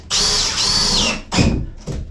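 A power drill whines steadily for about a second, then gives two shorter bursts, loud and close, as it drives deck screws into a wooden beam aboard a wooden boat.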